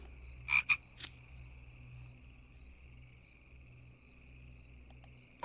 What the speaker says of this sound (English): Giant frog. Oh, I want all the froggies.